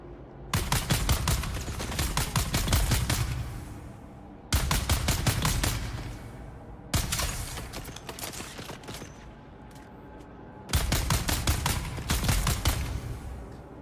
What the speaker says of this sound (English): I spend so much time shooting in here